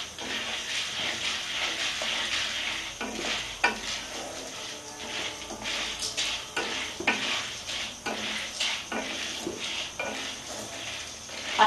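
Popcorn kernels are stirred in a pan over full flame, giving repeated scraping and rattling strokes over a steady sizzle, loud and close with no talk.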